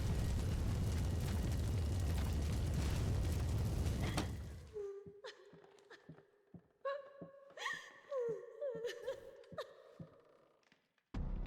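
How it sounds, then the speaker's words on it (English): House fire in Layers of Fear roaring as a dense, loud crackling rush for several seconds, then cutting off to scattered pops, creaks and tonal groans at lower level. "The room is on fire."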